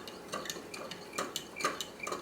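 A spoon stirs cherry Jell-O mixture in a bowl, giving light repeated clinks and scrapes against the sides in an uneven rhythm, close by and fairly quiet.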